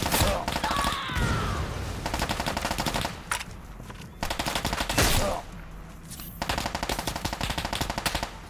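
Turret machine-gun fire in the Fallout D.U.S.T. survival mod rattles in loud sustained bursts, broken by brief pauses and thumps, close and dense throughout.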